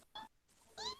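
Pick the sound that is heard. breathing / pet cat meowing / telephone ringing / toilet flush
pet cat meowing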